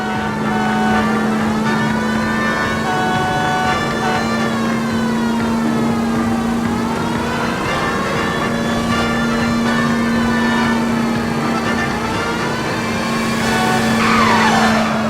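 A stolen green Kaiser Fraser tears along in an L.A. Noire car chase: a loud, sustained engine roar that rises and falls with the revs, with a hiss of tire squeal surging near the end.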